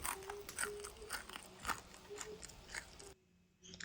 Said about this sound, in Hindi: आपको आवाज़ से ही पहचान में आ गया होगा कि ये कितना कुरकुरे हैं